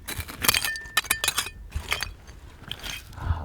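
Broken old glass pieces from a buried mound, late-1800s bottles and jars, clink and scrape against each other in sharp irregular taps and crunches as they are dug up, close and moderately loud with no talking.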